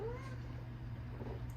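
A house cat gives a single short, rising meow at the very start, faint and a little distant over a low steady hum, then only quiet room noise follows.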